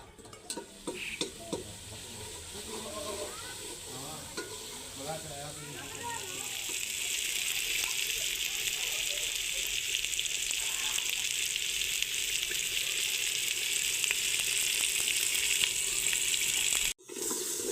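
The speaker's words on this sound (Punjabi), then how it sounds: "ਤੇ ਨਾਲ ਹੀ ਨਾ ਮਸਾਲਾ ਭੁੰਨਦੇ ਆ" Masala spices roast in a pan for a home-cooked salan, a steady close sizzle that swells and stays loud, with scraping stirs and a few clatters early on.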